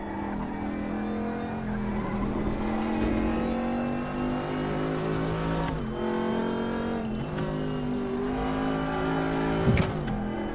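A race car in RaceRoom Racing Experience revs hard and steadily throughout, its engine note dropping sharply as it downshifts around the sixth second and again near the end. There is a brief skid-like burst, and no talk.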